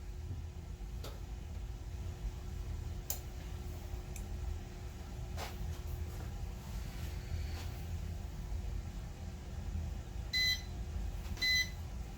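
A heat press timer sounding its alert, two short electronic beep bursts near the end over a low steady background hum, with a few faint clicks earlier.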